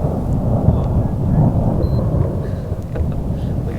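A storm being chased gives off steady deep thunder rumble, a dense low roar with faint rain, moderately loud and unbroken throughout, no voices.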